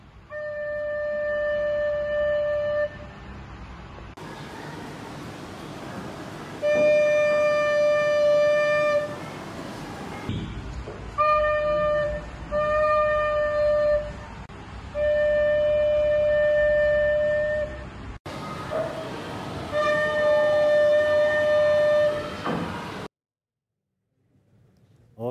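A recorder plays the note D in a primary-school music lesson: several clear, sustained, pure-toned notes, each held for a few seconds and separated by short silences.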